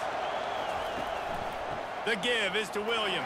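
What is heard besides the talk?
stadium crowd noise in the College Football 25 video game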